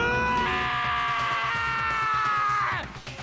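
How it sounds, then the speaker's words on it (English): A single long, loud high-pitched scream from Danganronpa holds steady for nearly three seconds, then bends downward and cuts off, leaving faint residue behind. "I heard screaming"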